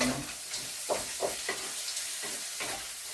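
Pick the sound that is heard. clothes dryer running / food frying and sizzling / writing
food frying and sizzling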